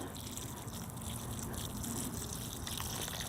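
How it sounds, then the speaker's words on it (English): Water gushes steadily while new plantings are watered in a home garden, a continuous soft splashing and trickling rush that stays even throughout with no talk. "I'll water as I plant."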